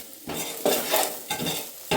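Paneer masala stirred and fried in a pan, with a spoon scraping through the thick, drying mixture in repeated strokes over a steady sizzle, close and fairly loud, with no voices.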